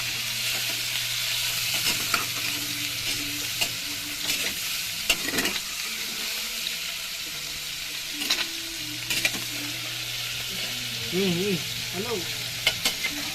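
Squid frying in a pan while being stirred, with a continuous sizzle and repeated scraping stirs; a hum and a few brief voice fragments sit underneath.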